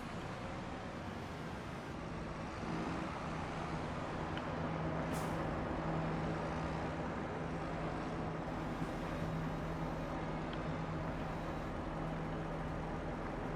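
Tractor with a front loader working in Farming Simulator 25, a steady engine drone with a low hum running continuously, close and fairly loud, with a brief hiss partway through.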